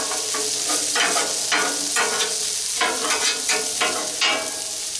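Pieces sautéing in butter and oil in a pan, a steady sizzle broken by repeated bursts of stirring and scraping, close and fairly loud, no voices.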